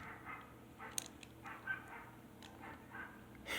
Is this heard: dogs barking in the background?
yes